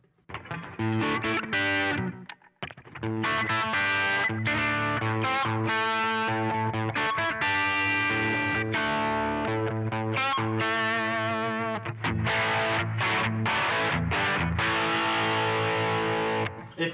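A Gibson SG electric guitar plays a riff through its bridge pickup with a drive pedal engaged. The tone is loud and distorted with sustained chords and a brief pause near the start, and it continues steadily without voices.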